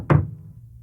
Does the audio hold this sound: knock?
yes